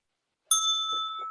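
A meditation bell at a Zen center is struck once and rings clearly, its bright tone sustaining and slowly fading in a quiet room, with a faint soft rustle beneath.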